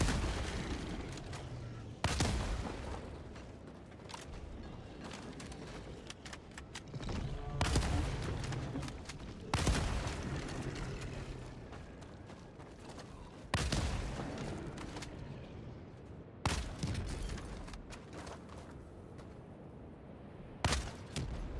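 Gunfire in the video game Helldivers 2: repeated loud, sharp volleys of shots every few seconds, separated by quieter stretches of ambient game noise.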